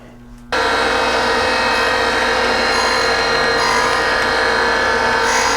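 A surface grinder grinding hardened bolts for a race car starts abruptly and runs as a loud, steady, gritty whine and hiss, close up and continuous.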